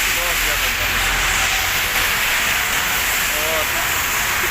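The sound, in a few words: heavy rain outside a hotel in Medina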